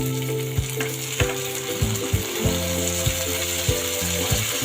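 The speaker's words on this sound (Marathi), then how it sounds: "आता टमाटा छान मऊ पडेपर्यंत आपल्याला हे परतून घ्यायचं आहे" Onion and tomato sautéing in a pan for methi chaman, a loud steady sizzle with repeated spoon scrapes and taps against the pan, no talk.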